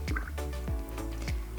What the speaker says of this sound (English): So all right, I'm gonna dip into the water